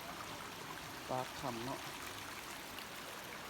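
A steady wash of water flows out below a cave mouth at Tham Pha Ru, Na Lae, a continuous broadband rush with no pauses. Someone speaks briefly over it.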